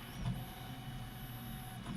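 A budget 3D printer costing under $100 hums steadily with a low motor drone and faint whine as its print head moves, a continuous close mechanical sound with no talk.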